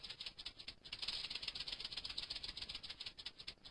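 A continuous buzzy rattle, like a snake shaking its tail, pulses steadily and close throughout. It is a sound effect laid over a white powder reacting with oxygen.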